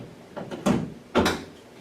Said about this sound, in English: On this side, we open the latches again